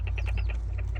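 A young hen in a winter grow-out coop clucks under a heat lamp in a quick run of sharp, evenly spaced clucks over a low steady hum, close and fairly quiet.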